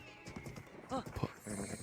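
A horse in the video game Tears of the Kingdom clops its hooves and lets out a short, bright whinny midway, with a voice talking over parts of it.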